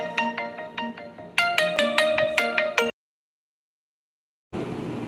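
A phone rings for an incoming call with a bright, repeating electronic ringtone melody of short plucked notes, loud and close, running about three seconds before abruptly stopping into silence, followed by a return of background hiss.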